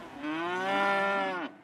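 A single long, steady cattle moo, loud and close, rising and holding for over a second before cutting off, with no voices around it.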